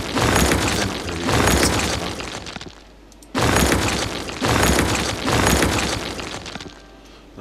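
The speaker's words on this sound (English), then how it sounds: "we need to go through here and destroy the burnt out ones" Burnt-out buildings being demolished in the city-building game Cities Skylines: repeated loud crashing, rumbling bursts, each lasting about a second, arriving in two close clusters separated by a short quiet gap.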